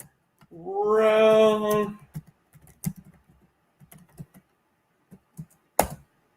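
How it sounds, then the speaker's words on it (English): Typing on a computer keyboard: scattered, irregular keystroke clicks, close and fairly faint, come after a brief sustained tonal sound at the start. "I'm going to type them in."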